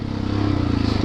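Yamaha YZ450FX dirt bike with new tires being ridden, a loud close engine drone with rapid pulsing throb and some clattering and scraping underneath.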